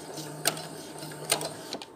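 A sewing machine stitches a seam on a fabric face mask, a close mechanical whir with short bursts of rapid needle clatter and a faint underlying hum.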